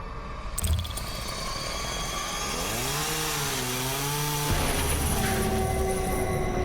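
An enemy's chainsaw in the video game Deep Sleep: Labyrinth of the Forsaken, roaring steadily and loudly with a revving pitch that rises and wavers midway, heard alone without talk.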